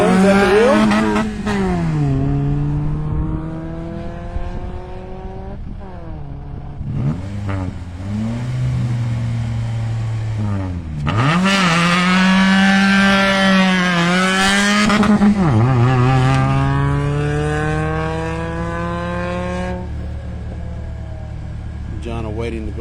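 A race car on the track at Carolina Motorsports Park, its engine loud and close, rising and falling in pitch through gear changes as it revs hard, with voices talking over it.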